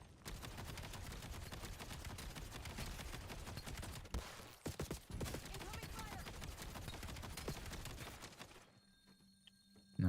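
Rapid gunfire in the Call of Duty Black Ops 7 video game rattles on in steady, dense bursts for several seconds, pauses briefly, then resumes before cutting out near the end.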